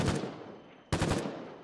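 A Fushina 7.62 burst rifle in the war game Foxhole fires two rapid bursts of rifle-caliber rounds, each a tight cluster of sharp, loud cracks with a short gap between them.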